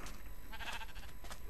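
Sheep bleating in the video game Minecraft: a short, quiet, wavering bleat standing alone over a faint background.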